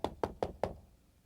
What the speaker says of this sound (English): Knock on my door.